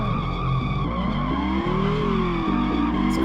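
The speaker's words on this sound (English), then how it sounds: "This car is not controlling well, it's just skidding out." Car in the Rush 2 arcade racing game skidding out of control, a loud sustained tire screech riding over a steady droning engine, close and continuous with no talking.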